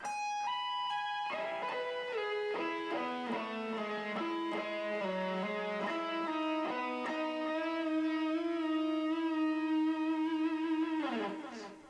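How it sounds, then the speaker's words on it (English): A sustained electric guitar note on the 8th fret of the G string bent slowly up and down, ending with a wavering vibrato, played alone and clearly throughout. "you're going to bend this 8th fret G up and down."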